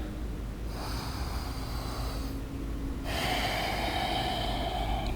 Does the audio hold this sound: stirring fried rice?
no